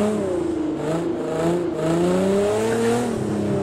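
A car in Project Cars on an ice track, its engine revving and wavering in pitch as it slides, a continuous close whine with faint tire noise and no talking.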